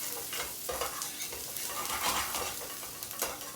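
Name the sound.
chopped shallots sizzling in a pan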